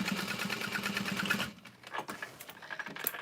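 A sewing machine stitches a small bag in a fast, steady mechanical rhythm for about a second and a half. It then stops, leaving scattered clicks and handling noises.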